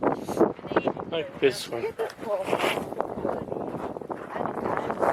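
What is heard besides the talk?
wind blowing into the microphone on Vesuvius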